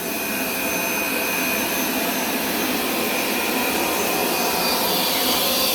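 A Hoover carpet cleaner runs steadily and loud, a constant broadband motor whine with a faint high tone, alone with no talk throughout.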